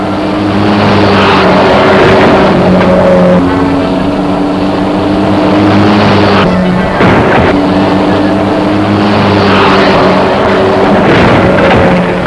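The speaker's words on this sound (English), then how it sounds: "he's going to jump that sedan over all those cars" Sedan racing up for a stunt jump over a row of parked cars, a loud engine roar climbing and falling in pitch twice, close and dominant with no talk over it.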